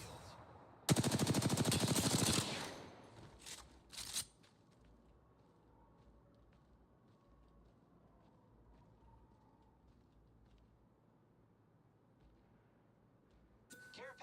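Gunfire in the video game Apex Legends: a loud rapid burst of automatic fire lasting over a second, then a few single shots, fading to quiet background with a faint last shot at the end.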